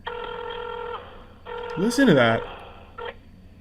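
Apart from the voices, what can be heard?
old rotary phone dialing in a video game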